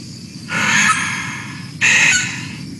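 A lyrebird imitating a sulphur-crested cockatoo gives two loud, harsh, raspy screeches, close and alone, the second starting after a short pause.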